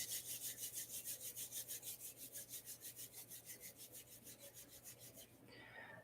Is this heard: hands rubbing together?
yes